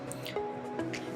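Brake fluid dripping from a bleed hose while bleeding the brakes, two or three small wet drips landing in quick succession over a faint steady background hum.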